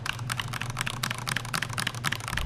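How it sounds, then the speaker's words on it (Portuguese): Cheap basic keyboard with no damping foam, dry hollow plastic keystrokes clacking in a fast continuous run, close and loud. "além de uma digitação mais seca, mais direta, a acústica é péssima. Parece que eu tô batendo plástico com plástico"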